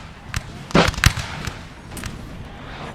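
Napoleonic infantry fire an uneven musket volley in Napoleon Total War at the Battle of Ulm (1805), a cluster of sharp cracks and pops that comes in bursts, some near and loud, others thinner and farther off.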